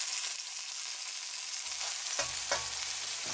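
Gentle, continuous sizzling of a fish head frying in a wok with chopped ginger, close up, with a few soft knocks from stirring toward the end and no voices.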